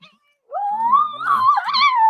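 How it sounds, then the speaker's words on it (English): A cat lets out a long, wavering caterwaul, loud and close, rising and bending in pitch after a short silence while a child tries to catch it. "There's a child trying to get a cat over here right now."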